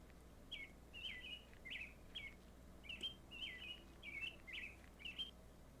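A small bird chirps in a video game, a string of about ten short, bright tweets in a steady rhythm over a faint low ambient hum.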